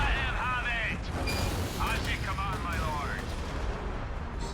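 Artillery volleys booming in the Warhammer 40k Gladius strategy game, a steady dense rumble of distant gunfire with mechanical clanks and whooshing projectile sweeps throughout.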